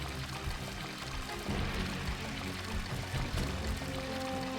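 Water pouring steadily into a container in Tomb Raider: The Last Revelation, a continuous soft splashing stream that stays even throughout, fairly quiet and with no voices.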